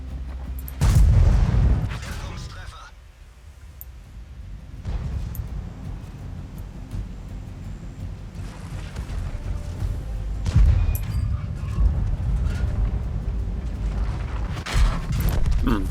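Heavy tank cannon shots in World of Tanks from a T29 heavy tank, several loud booming blasts spaced across the stretch with mechanical creaks and engine rumble between them.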